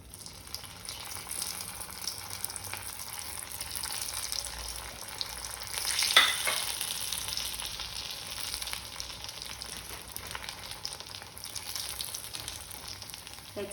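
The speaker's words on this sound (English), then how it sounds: "now let's fry it again" Vada pav fries in hot oil with a steady, close sizzle, and a brief, sharper burst of crackling partway through; nobody speaks.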